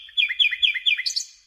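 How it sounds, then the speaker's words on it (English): Birdsong up close and clear, a run of rapid, high, sweet chirping phrases repeated in quick succession and ending in a brighter trill, with nothing else audible around it. "This birdsong,"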